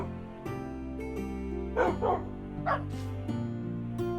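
A tamed wolf from a wolf pack in a video game gives several short yipping barks in quick bursts over a sustained, droning musical backdrop.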